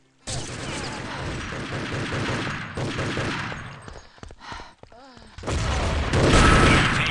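Rapid gunfire and a grenade blast ring out in a competitive Urban Terror match, with dense bursts of shots, a short lull, then heavy renewed firing, all loud and close.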